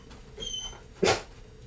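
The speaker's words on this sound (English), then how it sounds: "Can you guys hear my dog in the background?" A pet dog gives a single short bark or yip in the background of a quiet indoor room, preceded by a faint whine.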